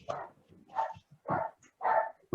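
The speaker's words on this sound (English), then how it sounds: "The dog wants to get in on the interview" A dog barks about five times in a fairly even rhythm, each bark short and somewhat distant and muffled, with quiet gaps between.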